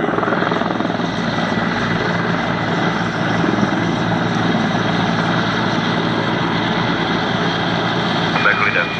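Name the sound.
Czech Air Force Mi-17 Hip helicopter flying display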